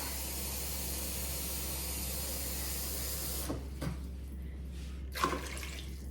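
Water streams and hisses as it pours over sliced apples in a pot for apple pie, a steady rushing flow that stops halfway, followed by a couple of faint splashes and knocks.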